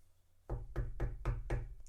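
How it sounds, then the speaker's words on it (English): Six evenly spaced, firm knocks on a hotel room door, close and distinct, with faint room tone between them. "Knock on the door."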